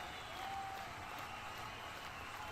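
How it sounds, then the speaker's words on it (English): Hockey arena crowd cheering and applauding steadily after a puck clearance during an NHL Stanley Cup Playoffs game, Winnipeg Jets versus Colorado Avalanche, a dense continuous roar filling the space without a break. "Crowd cheering after that clearance."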